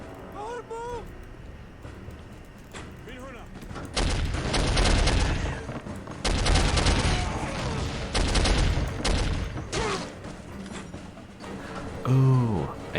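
Gunfire from a sniper positioned in a tower during a video game, heard as loud bursts of shots and booms over several seconds, with someone talking before and after the firing.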